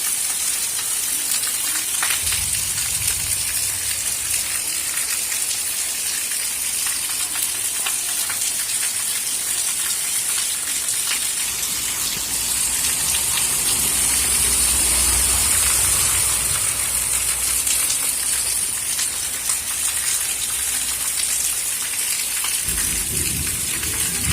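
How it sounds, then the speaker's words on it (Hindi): Heavy rain pours down steadily in a rural village, a loud, dense hiss that never lets up, with occasional low rumbles underneath. "इतने जोर से वर्षा होती है"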